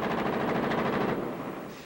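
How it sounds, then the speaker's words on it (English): Sustained gunfire from an exchange in Bethlehem between gunmen holed up in the Church of the Nativity and Israeli soldiers, heard as a dense, continuous rattle of rapid shots that fades slightly toward the end. "Palestinian gunmen holed up in the Church of the Nativity kept firing, and Israeli soldiers fired back"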